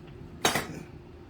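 A spoon knocks once against a pot of boiling water and elbow noodles, a single bright metallic scrape that fades quickly, close and alone.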